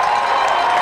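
A crowd at a high school football game cheers and applauds in a brief, loud, dense burst of roaring noise.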